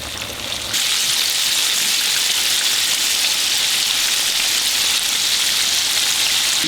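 Bone-in chicken frying in a skillet full of oil, a loud, dense crackling sizzle that starts abruptly after a quieter opening and then holds steady and close throughout.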